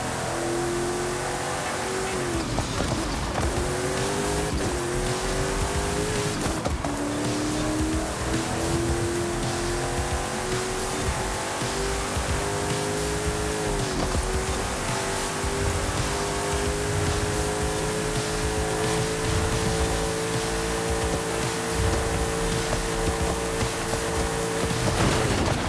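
A car laps a track in a racing game, its engine droning loud and continuous, pitch climbing and dropping through repeated gear shifts, with no voices.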